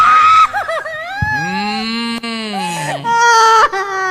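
A person screams and wails during a deliverance prayer, with long, loud, pitched vocal cries rising and falling across the moment and a few shorter sobbing bursts, close and dominant.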